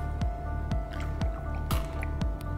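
Water dripping and squishing onto filter paper folded in a laboratory funnel, four or five distinct wet drips spaced about half a second apart over a faint background hum.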